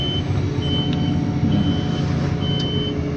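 An XCMG 110-ton crane swinging sounds a steady series of high warning beeps, evenly spaced, over the low continuous rumble of its diesel engine.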